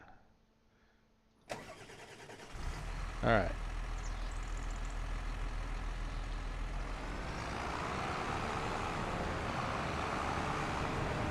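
A tractor engine in the Farming Simulator 25 video game starts up and settles into a steady, rumbling idle that holds to the end, with a brief spoken word near the start.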